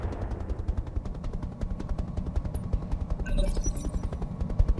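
Rapid volleys of missile fire in the Roguetech game crackle in quick, evenly spaced bursts, with a denser salvo of hits landing near the end.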